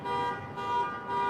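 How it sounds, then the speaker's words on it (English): A car alarm going off, a steady tonal wail with slow swells in level, somewhat distant and continuous, with no voices. "I do wish that whoever had their car alarm going off would stop that"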